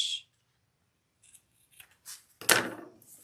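Scissors trim excess fabric from a sewn bug pack before binding, with a few soft snips and rustles building to one sharp, close cut.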